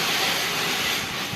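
Steady gas hiss from a leaking airsoft gas blowback pistol magazine, a continuous broadband rush held close and fairly loud for the whole stretch, with no voices.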